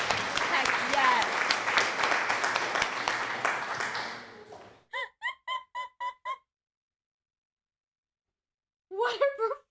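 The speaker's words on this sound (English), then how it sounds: "Can we get a round of applause?" Crowd applause and clapping during a livestreamed charity event, loud and dense for about four seconds before cutting off abruptly, followed by a series of short voiced sounds and a brief burst of talk.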